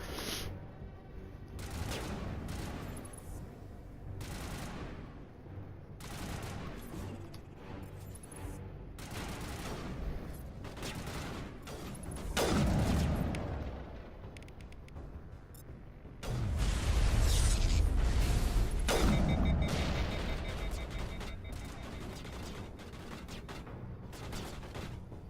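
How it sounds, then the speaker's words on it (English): Automatic turret gunfire in the Mass Effect video game, sustained bursts of rapid shots that swell louder in the middle and near the end, with no talking over it. "Must be a turret above us or something."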